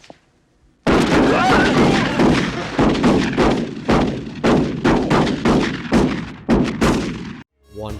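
Repeated loud gunshot blasts in a film scene as a man grabs a shotgun inside a Target store, about a dozen booming reports in quick irregular succession, close and dominant with no talk.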